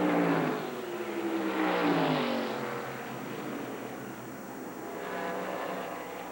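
Busch Grand National stock cars race at Richmond in 1995, their engines roaring past one after another, swelling and fading as they sweep by, with a steady drone of more cars behind them.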